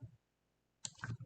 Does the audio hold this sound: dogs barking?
no